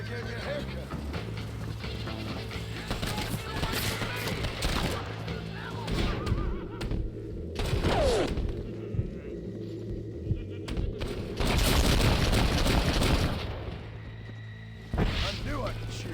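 Gunshots crack out during a Red Dead Redemption shootout, with loud bursts and crashes mixed among horse whinnies and in-game voices, the fire coming in clusters with a heavy volley near the end.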